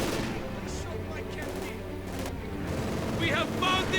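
Dense, rattling bursts of submachine gun fire in a Company of Heroes 2 battle, layered with other gunfire and rumbling explosions, steady and loud for the whole stretch, with a voice likely talking over it.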